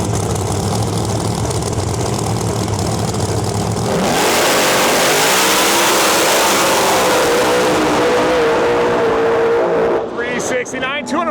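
Pro Mod drag race car at a Canadian outlaw drag event making a 214 mph pass, a loud engine roar that swells abruptly into a sustained high-revving blast, with a commentator talking over it.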